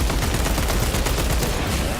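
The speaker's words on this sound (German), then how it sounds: "Die können schießen, Alter!" Dense, continuous enemy gunfire rattles through a battle in the video game Space Marine 2, a steady loud fusillade of rapid shots with no pause across the whole moment.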